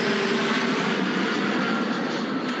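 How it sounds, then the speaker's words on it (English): An airplane passes right overhead during an outdoor interview, a loud steady broadband engine roar that fills the whole moment and fades slightly toward the end. "Sorry, that plane went right over the top."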